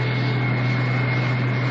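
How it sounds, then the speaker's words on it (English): An airplane in flight hums with a steady, droning engine tone, an even cabin roar held constant and unbroken, like a radio drama sound effect. "On the plane, speeding south"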